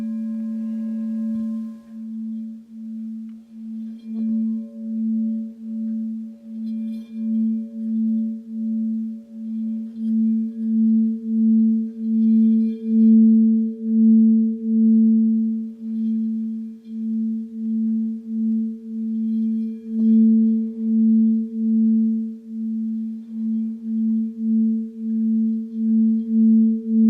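Resonant metal instrument sounding the note A, a pure sustained tone that pulses in a slow, even wobble, with a faint higher overtone humming alongside, close and clear, with no talk.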